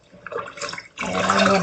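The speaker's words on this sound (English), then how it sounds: "got some water in this sink and I'm swishing them around." Collard greens swished by hand in sink water, a brief splashing and sloshing that starts quietly and then swells into a fuller, steady swirl.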